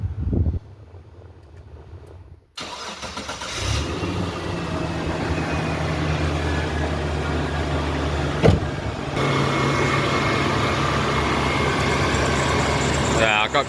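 A Mitsubishi Triton engine cranks and catches, then settles into a steady, loud idle in a cluttered workshop, with a person speaking over the running motor.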